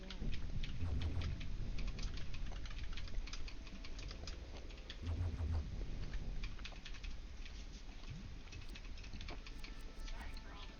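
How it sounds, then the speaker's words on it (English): Furious typing on a computer keyboard: rapid, uneven clusters of soft key clicks, fairly quiet and continuous, under game sounds and scattered talking. "Sorry for all the furious typing on the keyboard."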